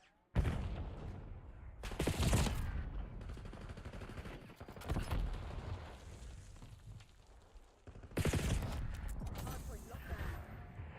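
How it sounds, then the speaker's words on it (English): A Tommy gun fires in Black Ops 6 multiplayer, loud bursts of rapid automatic fire at the start, after two seconds and again near the end, with scattered gunfire and game sounds in between. "Tommy gun."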